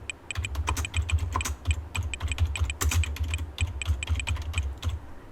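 Rapid typing on a computer keyboard, a steady run of close, crisp key clicks with uneven rhythm and no voices.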